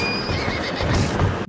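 A horse whinnies loudly and close in The Legend of Zelda: Tears of the Kingdom, a long shrill neigh over clip-clopping hooves and a dense game soundscape, with no speech.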